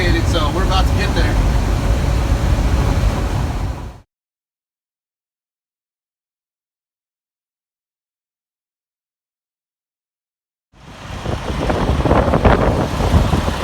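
Strong, gusty wind roars around a parked delivery vehicle at a warehouse, making a loud, broadband rushing rumble that stops abruptly into several seconds of dead silence before surging back up.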